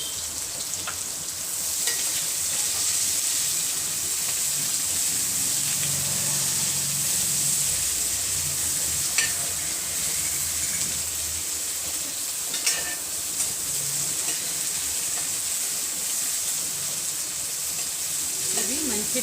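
Sliced onion frying in a pot for aloo dum biryani, a continuous loud sizzle and hiss with occasional stirring scrapes and a few sharp pops.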